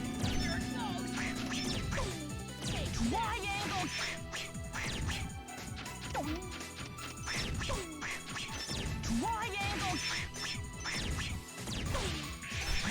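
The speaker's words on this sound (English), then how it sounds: "Alright, we're back to the duck noises." Duck-like quacking sound effects burst out repeatedly in Mega Man X7 during a boss fight, mixed with loud crashes, hits and continuous game music throughout.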